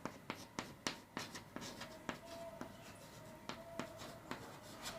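Pen strokes scratch across paper while a determinant expansion is written out by hand, quiet and close, in a quick irregular run of short taps and scrapes with no voices.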